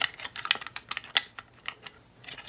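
The over-the-shoulder restraint on a roller coaster is pulled down, and its ratchet gives a quick run of sharp, close, irregular clicks.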